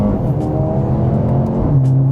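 The engine of a flood-damaged Mercedes A35 AMG hums loudly from inside the car, its pitch shifting as it strains into the next gear.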